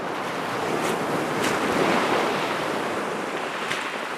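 Surf rolls onto a cold winter beach at high tide, a loud, continuous roar of breaking waves mixed with gusting wind buffeting the microphone, with no voices.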